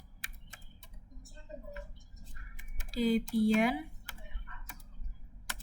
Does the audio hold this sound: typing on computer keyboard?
yes